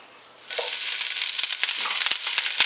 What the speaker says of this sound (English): I have a little bit of Swiss chard over there I'm going to fry up too